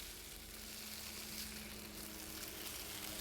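Steak frying in the video game Cooking Simulator, a continuous hissing sizzle that holds steady and close throughout, with no voices.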